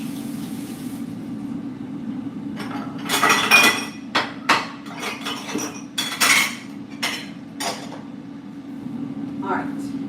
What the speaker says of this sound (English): Now I've got a couple of dishes to wash